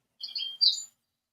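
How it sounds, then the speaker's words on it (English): A small bird chirps nearby in a quick run of high tweets and then one brighter call, heard alone in a quiet room at a model railroading show. "We got a bird somewhere."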